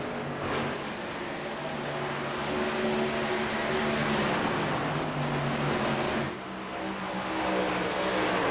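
Open-wheel-style racing trucks roar along a track in a steady loud engine drone, with pitch shifts as they pass and brief tire-scrub bursts, no voices.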